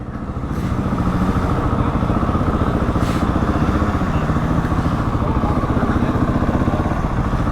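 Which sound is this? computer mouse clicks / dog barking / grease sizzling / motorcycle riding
motorcycle riding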